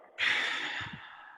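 A long, breathy exhale during a guided breathing exercise rushes out close to the microphone, starting abruptly and tapering gently over about a second, with a faint voiced murmur near the end.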